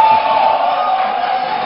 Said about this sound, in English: to please stop the jeering and the clapping